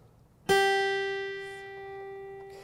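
A single guitar note on the third fret of the high E string is plucked once, then rings out clearly and slowly decays, with a faint quiet background.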